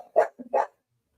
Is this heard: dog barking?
yes